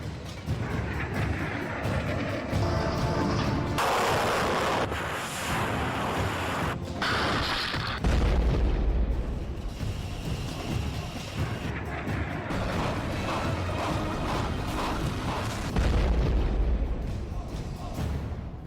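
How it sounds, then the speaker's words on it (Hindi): Heavy booms and explosions from Russian missile strikes on residential areas of Ukraine, loud, rumbling blasts with deep low-frequency thuds recurring across the stretch, mixed with mechanical noise and faint voices. "रूस ने यूक्रेन पर भयानक मिसाइलों से हमला कर दिया"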